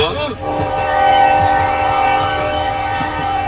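A train rumbles past close by with a long sustained horn blast, steady and loud over rolling wheel noise throughout.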